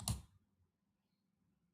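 A single crisp computer mouse click while working in AutoCAD, close and brief, followed by near silence with a faint low hum.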